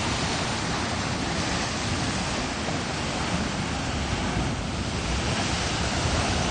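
Ocean surf washes against a rocky ledge shoreline at Newport, Rhode Island, a dense, steady roar of churning water and wind, loud and continuous with no distinct breaks.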